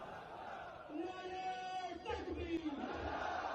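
Protesters gathered outside Adiala jail in Pakistan make a steady crowd roar with raised chanting voices swelling partway through, loud and slightly distant.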